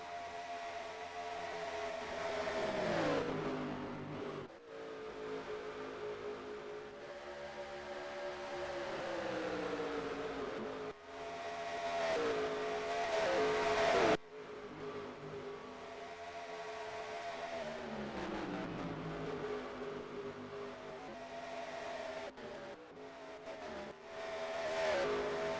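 Race cars in NASCAR Racing 2003 at Texas Motor Speedway, engines roaring past in repeated loud waves with rising and falling pitch, several cars passing close in succession.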